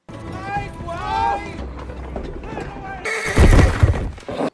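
A horse neighs and whinnies loudly in a film scene, a wavering cry followed by rougher snorting and a burst of noisy commotion.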